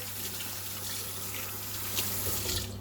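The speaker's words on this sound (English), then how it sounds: "I'm gonna wash the garlic thoroughly." Tap water running steadily into a sink while garlic is washed for Jamaican rice and peas with oxtail: a continuous close hissing splash with small irregular spatters, no talking.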